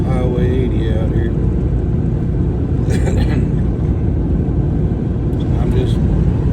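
A car drives along the rough, patched surface of old Highway 80, its steady road rumble and tire noise running loud and close throughout while someone talks over it.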